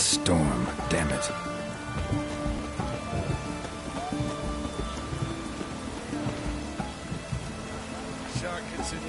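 Steady, dense rainfall from a storm in The Witcher 3: Wild Hunt, a constant wash of rain with scattered louder splashes and some background voices and movement mixed in.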